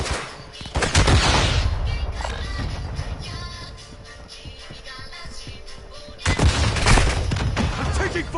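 Bursts of automatic gunfire in Warzone 2.0, a heavy volley at the start, scattered shots through the middle, then another loud burst near the end, with faint voices now and then.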